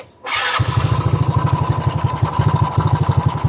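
A Mio Fino 160cc motorcycle fitted with a 28mm roundslide carburetor fires up after a brief start attempt and settles into a loud, close, rapid pulsing idle, with no voices over it.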